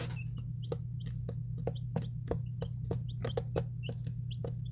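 Baby chicks on day 20, peeping in short chirps with knocks and pecks over a steady low hum, close and fairly quiet, with no talking.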